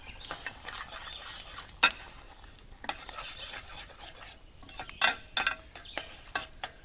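Eggs, bacon and Gouda cook over an open fire, with faint sizzling under scattered scraping and clinking of a utensil stirring in the pan.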